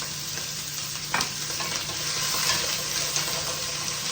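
Vegetables sizzle steadily in a hot pan for wonton soup, a continuous close frying hiss with a few faint clinks and stirring noises, no talking.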